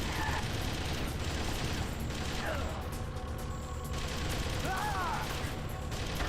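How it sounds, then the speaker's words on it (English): Rapid gunshots crack in the Metal Gear Solid Twin Snakes game as the lights are shot out, a steady stream of close bursts over a busy background. "Oh, you can shoot out the lights."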